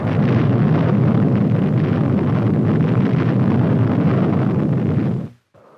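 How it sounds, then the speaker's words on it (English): An atomic artillery shell detonates in 1950s test footage, a massive, continuous low rumbling roar that holds steady and loud for several seconds before cutting off abruptly. "Then came atomic artillery."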